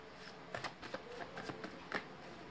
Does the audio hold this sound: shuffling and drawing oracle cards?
yes